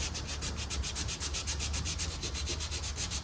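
Rhythmic back-and-forth strokes of sandpaper over body filler on a 1978 Ford, a steady, close scratchy rasp repeating roughly six times a second with no voices.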